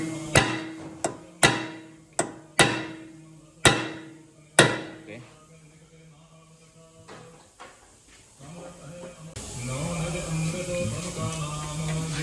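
Sharp metallic hammer strikes on a large nut held over a stuck rotor screw, about seven loud, evenly spaced blows with ringing decay, followed by quieter shuffling and then background noise.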